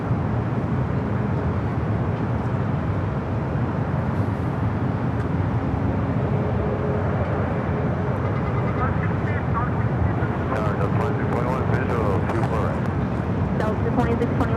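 A Boeing 737 MAX 8 jet takes off from runway 24 left at LAX, heard as a steady, loud, broadband engine roar that holds throughout, with some brief higher-pitched crackle near the end.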